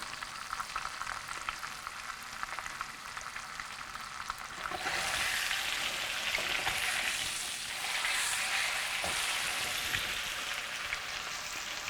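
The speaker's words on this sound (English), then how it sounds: "we're gonna set that steak up on its side, and we're gonna sear that end" A steak stood on its side sears in a hot pan. A quieter sizzle jumps to a loud, steady crackling spit a few seconds in and then keeps frying.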